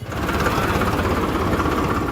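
A tractor with diesel drums loaded aboard, driven by farmers in Kaithal, Haryana, idles with a steady, heavy low rumble, close and continuous with no talking.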